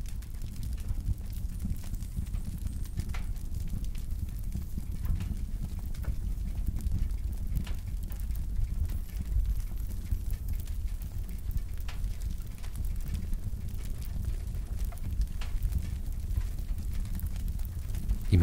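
A crackling fire burns steadily for a hypnosis relaxation session by the fireside, with a low rumble and scattered faint pops and snaps continuing evenly throughout.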